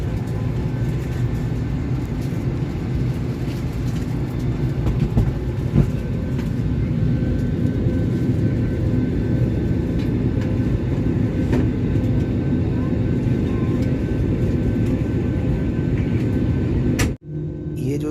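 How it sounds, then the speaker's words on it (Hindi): Steady, loud broadband engine roar inside an airliner cabin on the ground before a Riyadh to Mecca flight, continuous rumble with a brief dip near the end. "ये हमारा जहाज़ है।"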